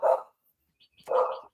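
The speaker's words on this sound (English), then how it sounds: "The dog." A dog barks twice in two short, loud bursts close by, with a quiet pause between them and no talking over it.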